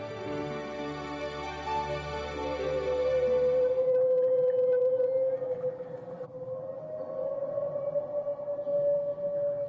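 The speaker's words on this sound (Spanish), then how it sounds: "Estos extraños sonidos también los emiten las ballenas jorobadas." Strange whale-like calls of the kind humpback whales make in coastal inlets: a long, wavering tonal moan rich in harmonics, loud and sustained, shifting pitch slightly and continuing through the whole stretch with no talk.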